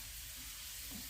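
Shallots frying in hot oil until golden brown, a steady bright sizzle with soft crackling, close and continuous, with no voices.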